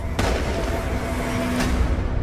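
A revolver gunshot cracks out sharply near the start, followed by a second loud report about a second and a half later, both over a dense, rumbling background.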